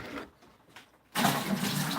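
Water starting to run into a homebrew brewing pot for a cinnamon stout, a quiet pause then a sudden loud, steady rushing gush of filling water.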